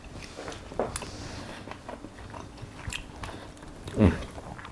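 Someone bites and chews steak topped with Cafe de Paris butter, giving soft close mouth sounds with two sharper bites, one early and a louder one near the end, and no speech.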